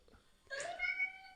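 A cat attraction sound plays from an iPad, a short burst of bright, tonal meowing calls that rises suddenly and holds for under a second, with quiet room noise before it.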